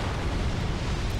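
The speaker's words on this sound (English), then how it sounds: "There's my explosion" Firebomb explosion in Dark Souls 2, a loud sustained roaring blast filling the moment with deep rumble, heard alone without talk.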